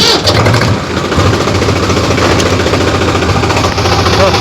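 A tractor engine runs loud and close with a steady mid-pitched rumble after starting, while people talk over it.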